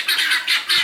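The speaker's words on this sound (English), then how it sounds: "I love the guineas." Three loud, grating squawks from homestead guinea fowl, close by and evenly spaced, with short quiet gaps and no voices.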